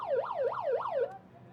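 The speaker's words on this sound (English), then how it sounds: "As we hear the final siren in the background" A rugby sevens match's final siren wails up and down in three quick cycles, then cuts off abruptly, sounding moderately distant with faint background ambience.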